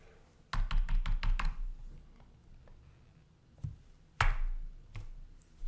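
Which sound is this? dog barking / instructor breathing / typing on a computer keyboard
typing on a computer keyboard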